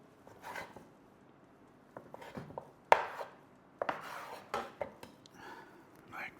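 A taut round ball of pizza dough for a Sicilian grandma pie is cut in two on a kitchen counter, with quiet scraping and soft knocks of a tool against the surface, close and sparse.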